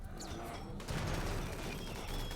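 In the RimWorld game, a group concentrates its fire on one enemy, producing a dense, continuous crackle of rapid gunfire that starts abruptly and stays loud to the end.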